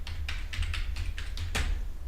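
Quick keystrokes on a computer keyboard, about eight crisp taps at an uneven pace over a low steady hum, close and moderately loud with nobody talking.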